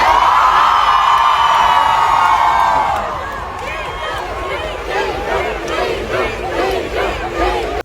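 A large crowd at a celebrity event shouts and cheers for Nick Jonas as "Jiju", loud massed voices in rhythmic chanting that settle into a lively, overlapping roar of whoops and calls.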